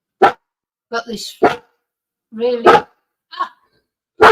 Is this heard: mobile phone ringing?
no